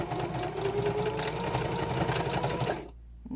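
A sewing machine run by foot pedal stitches over a thick denim seam, a fast, steady mechanical whir with a rhythmic needle chatter close by, slowing and stopping near the end.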